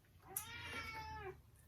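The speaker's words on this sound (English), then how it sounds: "don't mind my cat trying to get into the video" A pet cat lets out one drawn-out, wavering meow, close and fairly loud, with a brief sharp accent near its start and a quiet room behind it.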